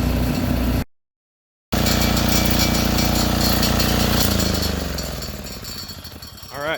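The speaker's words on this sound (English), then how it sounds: "the generator's doing what it's supposed to" MEP 501A military diesel generator running steadily, a dense rumbling engine drone with rattly mechanical texture, briefly cut out near the start, then tapering slightly and ending with a rising whine.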